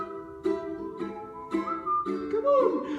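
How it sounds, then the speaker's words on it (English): At a live ukulele jam in a pub, someone whistles the melody of a singalong tune in a clear, sustained line over strummed ukuleles, with the pitch rising near the end. "just purse your lips and whistle, that's the thing"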